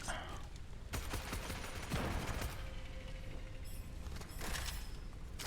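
A video-game weapon fires in rapid bursts of clattering shots, its rate of fire building the longer it is held, with loud crackling volleys and mechanical clicks up close.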